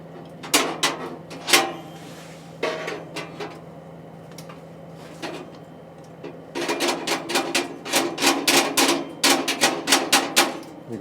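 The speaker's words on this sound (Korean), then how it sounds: "공기구멍을 조금 열어볼게요" Metal air vent on a wood-burning stove being twisted open, giving sharp metallic clicks and taps, scattered at first and then a rapid rattling run of knocks, close by.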